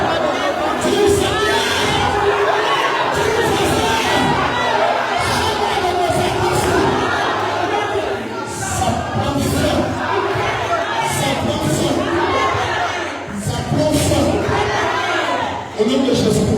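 A church congregation at a French-language Tuesday worship service shouts and cheers in praise, a loud, continuous roar of many voices that keeps going with little letup.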